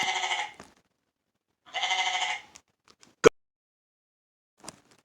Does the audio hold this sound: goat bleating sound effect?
yes